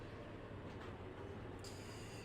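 An Amtrak passenger train in Trainz Simulator 3, running through the Inyo Mountains, gives a steady low rail rumble and rolling wheel noise, faint and continuous, with a high tonal whine joining near the end.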